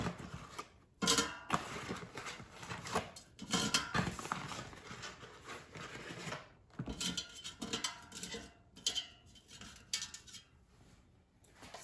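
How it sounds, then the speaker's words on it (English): Frozen sausage patties drop and clatter into an air fryer basket, a run of sharp hard knocks and scrapes with short pauses between, close and fairly loud. "I'm going to put frozen sausage patties in the air fryer basket."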